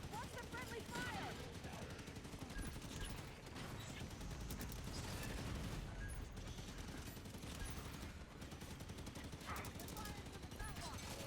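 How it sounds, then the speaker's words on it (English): Dense, continuous automatic gunfire in the Halo video game as a Warthog vehicle takes fire, with overlapping bursts, impacts and mechanical clatter filling the whole stretch, with voices calling out underneath. "Gunner is taking fire. Warthog is taking fire."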